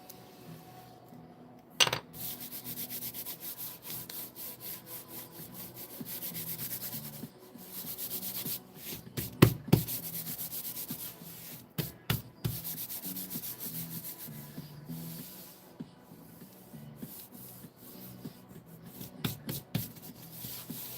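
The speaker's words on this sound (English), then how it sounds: "taking my bone folder, smoothing this out, making sure I have good connect, getting rid of any excess glue" A bone folder rubs and smooths glued paper in a long run of soft scraping strokes, broken by a few sharp taps and knocks from items set down nearby, close and quiet.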